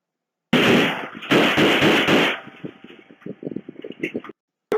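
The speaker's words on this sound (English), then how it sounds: "He lifts the gun, points it, shotgun guy fires." Shotgun fire during a police shooting in Indianapolis: loud, close, sharp blasts at the start, followed by quieter rapid popping and commotion.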